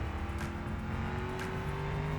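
Audi race car in the BeamNG driving game, its engine revving up hard out of a corner with a rising pitch, steady and close, nearly alone.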